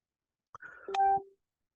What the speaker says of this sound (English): Oh, my phone's dinging for some reason.